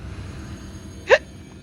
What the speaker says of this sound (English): hiccups are still the worst